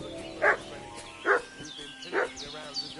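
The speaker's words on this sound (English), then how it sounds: "What's that dog making such a fuss about?" A dog barks in the video game Kingdom Come: Deliverance 2, three evenly spaced barks at medium distance with a fourth softer one, over ambient game sounds and faint bird calls.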